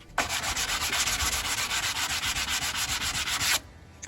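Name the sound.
hand sanding wooden deck rails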